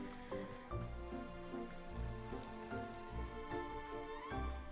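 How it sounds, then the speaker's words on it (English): Steady rain falling in the video game Wanderstop, a constant patter under soft game music that stays even throughout. "It seems like we've entered sort of rainy season. So it's been raining a ton."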